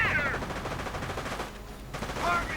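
Heavy machine gun fire from American Rangers in a real-time strategy game battle, rapid bursts of gunshots rattling continuously over distant battlefield noise.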